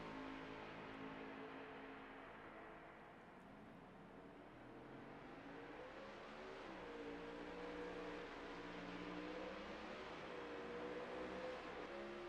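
A race car on a track at Pocono in a PowerHouse Pro League heat, its engine droning steadily and rising in pitch as it approaches, a continuous roar heard from a distance with no voices.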